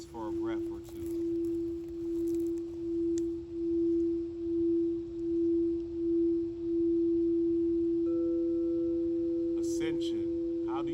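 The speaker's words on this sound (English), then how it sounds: "Let the tones of the bowls fill the space for a breath or two." A singing bowl rings with one pure, sustained tone that pulses in slow waves and fades gradually, and a second, higher bowl tone joins near the end.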